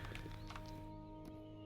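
Horse in the game Lord of the Rings Online, a quick run of hoof clip-clops fading after the first second, followed by a faint hoof tap over a steady background hum.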